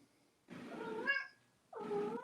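A cat gives two drawn-out meows with a short pause between them, close and fairly faint, with no other sound around them.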